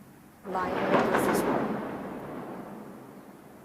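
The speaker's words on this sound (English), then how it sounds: "Sorry, that's the thunder." A roll of thunder breaks in suddenly, a loud deep rumble that swells and then slowly fades over several seconds, with a person talking over it nearby.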